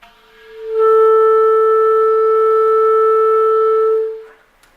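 A clarinet sustains a single clear B note above the break, held steady and strong for about three seconds after a smooth swell, then released, alone in a quiet room.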